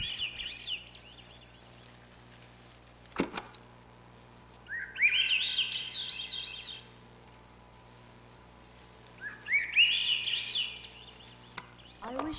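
Bird song in a video game: two bright, rising-and-falling warbling phrases a few seconds apart, clear and fairly close over a quiet background, with a brief sharp click between them.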